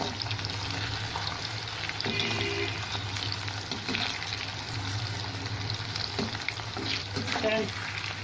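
Banana slices fry in hot oil toward crispness, a steady bubbling sizzle throughout with occasional stirring scrapes and clinks, close and moderately loud, with no talking.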